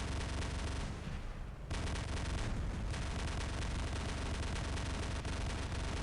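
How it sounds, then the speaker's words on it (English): Weapons on giant mech robots fire in War Robots, a dense, continuous roar of gunfire and blasts with a brief dip before the barrage resumes at full loudness. "Weapons popping off."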